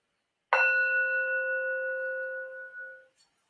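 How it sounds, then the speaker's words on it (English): A Tibetan singing bowl is struck once in a sound bath, giving a clear, bright onset. Its layered, shimmering tones sustain evenly for nearly three seconds before fading out. "There will be a Tibetan singing bowl."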